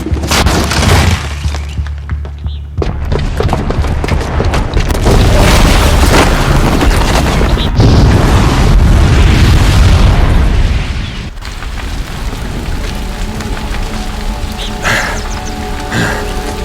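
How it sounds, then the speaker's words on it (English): Heavy bomb explosion in Horizon Zero Dawn, a loud booming blast followed by sustained rumbling and crackling debris for several seconds, then dropping to quieter ringing and scattered pops. "the booby trap on the bomb downstairs is gonna get set off"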